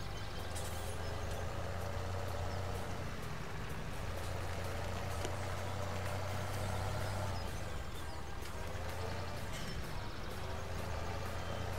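A tractor engine in Farming Simulator 17 drones with a steady low hum throughout, accompanied by continuous hissing and scattered clicking noise at moderate level, with no speech.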